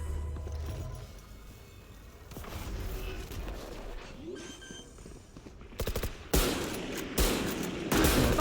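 Gunfire in a Valorant match, including Marshall sniper rifle shots: scattered shots and bursts, with sharp loud cracks clustered toward the end.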